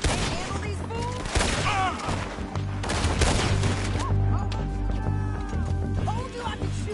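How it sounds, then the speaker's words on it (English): Gunfire in Red Dead Redemption 2 crackles in a shootout, with repeated sharp shots and impacts mixed with character voices talking and shouting over the fight. "Told you I could shoot a gun, didn't I?"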